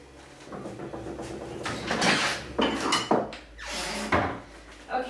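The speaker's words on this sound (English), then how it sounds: "So let me just grab a plate and a knife here" A plate and a knife are grabbed in a home kitchen while baking Tikvenik, giving a few close clattering and knocking handling sounds with short scrapes, spaced irregularly over a quiet background.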